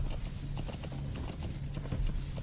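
Horse hooves clip-clopping in the video game Metal Gear, a steady rhythmic trot of many quick thuds, close and continuous with no talk.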